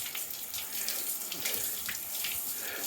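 A hose on a shower setting sprays water steadily onto a car coated with sealant, producing a continuous close splashing hiss with no voices.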